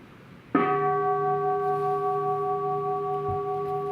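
A single struck bell, likely a temple bell at a Buddhist meditation center, rings out with one sharp strike and a long, steady, resonant sustain of several clear tones.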